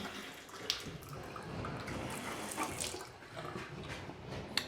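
A newly installed sink tap in a renovated bathroom runs with a steady, soft rush of water, quiet and continuous, with a couple of faint clinks near the start and end.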